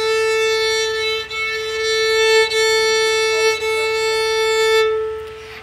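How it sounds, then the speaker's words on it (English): The open A string of a violin rings out in long bowed notes, close and clear, with a few brief breaks at bow changes before the tone stops near the end. "Next is the A string. It's a little bit higher."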